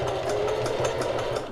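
A sewing machine runs steadily at a fast, even stitching rhythm, its motor whirring close and moderately loud with repeated mechanical clatter throughout.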